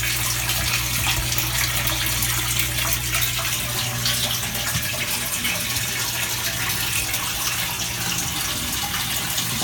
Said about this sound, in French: on voit de l'eau qui coule tout le temps